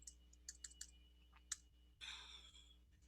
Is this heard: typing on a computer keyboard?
yes